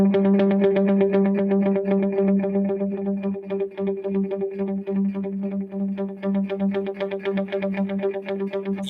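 Electric guitar through a dotted eighth delay, playing a fast repeated picked figure, the echoes stacking into a shimmering, rhythmic wash that carries on steadily throughout.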